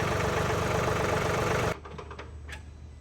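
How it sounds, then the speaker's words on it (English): A John Deere 3039R compact tractor with a loader idles at low RPM, a steady, rhythmic diesel chug heard up close. The engine suddenly drops to a much quieter, muffled idle partway through, with a few faint clicks. "Now I don't have my tractor turned up high for my RPMs"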